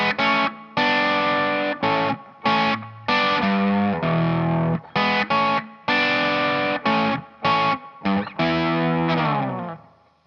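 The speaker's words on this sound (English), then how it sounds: "Now we're going to start off with this opening bluesy riff that" An electric guitar plays a bluesy AC/DC riff from the Back in Black album with hybrid picking, a string of punchy distorted chords and notes in a stop-start rhythm with short gaps, loud and alone.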